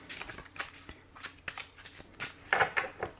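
Tarot cards are shuffled by hand for a love reading, giving quick papery riffles and soft slaps in an uneven rhythm. The sound is close and fairly quiet, with no talking.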